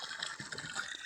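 Water gushes in a faint, steady stream as plants are watered, a soft continuous splash with no talk over it.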